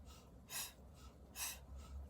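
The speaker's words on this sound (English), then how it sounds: "In through the nose, out through the mouth." Two slow, quiet breaths during a root chakra yoga flow, each drawn in through the nose and pushed out through the mouth, soft and close with hushed pauses between.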